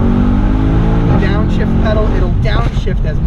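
A 2018 Mercedes-AMG S63 Cabriolet engine blipping and revving during a rapid multi-gear downshift, loud and close with a continuous low drone and quick rising surges, while a person talks over it.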